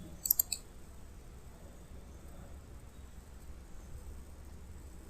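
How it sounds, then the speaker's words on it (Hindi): A computer mouse clicks on a Save As button, a couple of sharp close clicks near the start and one more at the end, over faint background hiss. "सेव करने के लिए आपको जो बताया था ऑफिस बटन, उस पर क्लिक करना है।"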